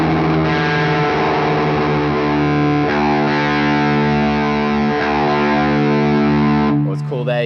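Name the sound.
guitar low E string tuned down to D against open D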